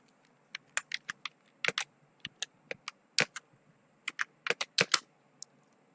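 Someone types on a computer keyboard while filling in an online office form, producing irregular bursts of crisp, close key clicks with short pauses between groups and a quiet background.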